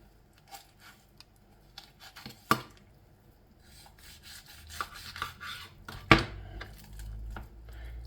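A knife works through a whole raw chicken on a board, with scattered soft cuts, scrapes and a few sharp knocks against the surface, close and fairly quiet, no talking.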